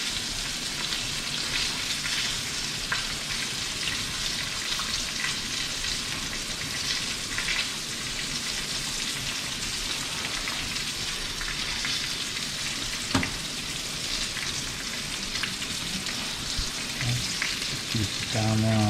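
White-tailed deer liver and buck heart fry in a pan with a loud, steady sizzle that runs unbroken, with faint stirring and crackles and a brief clatter near the end.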